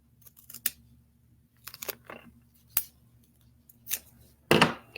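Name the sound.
cutting paper top hat section with scissors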